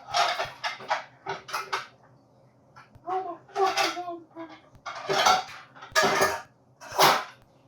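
A metal pan handled in a kitchen before cooking spaghetti, with a run of loud, close clanks, scrapes and utensil clatters in irregular bursts.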